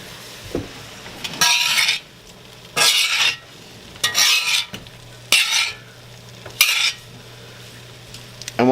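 Onion powder and garlic powder get mixed in with a utensil, making five separate bursts of scraping, stirring strokes with brief quiet pauses between them.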